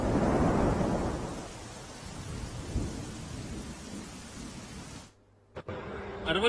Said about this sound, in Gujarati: અરવલ્લી જિલ્લામાં વહેલી સવારથી જ વરસાદ વરસી રહ્યો છે।